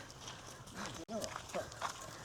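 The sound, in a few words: cow being led along, hooves clopping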